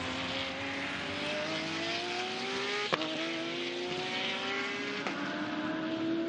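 GT race cars accelerate through a downhill section of the Shanghai circuit, engines rising steadily in pitch with a gear change midway, a continuous loud roar with no voices.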